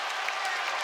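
Basketball arena crowd at a UNCW versus Eastern Kentucky game roaring and cheering after a swatted shot, a steady dense wash of noise lasting the whole moment with no break.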